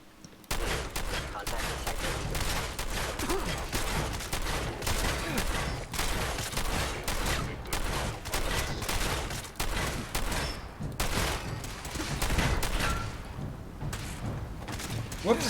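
Rapid bursts of gunfire from a Fallout 4 firefight crackle almost nonstop, with dense volleys of loud shots and thumps packed tightly across the scene and only brief lulls between them.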